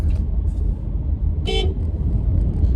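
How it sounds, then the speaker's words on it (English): A car horn gives one short, sharp toot over the steady rumble of a moving car and road noise, heard from inside the vehicle. "I feel very comfortable honking my horn."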